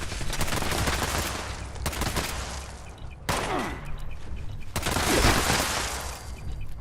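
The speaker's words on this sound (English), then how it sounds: "Dude's just shooting me in the back" Gunfire in Fallout 76: rapid automatic bursts crackle loudly and continuously, broken by a few sharp pauses, with dense, close shots filling the whole stretch.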